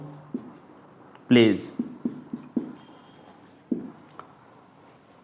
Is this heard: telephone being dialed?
no